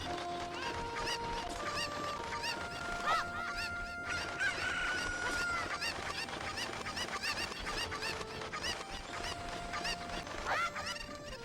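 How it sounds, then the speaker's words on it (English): Chickens in Zelda: Ocarina of Time keep up a busy run of clucks and squawky honking calls over game background music, loud and near, with a faint voice in the mix. "there's also one more chicken over here"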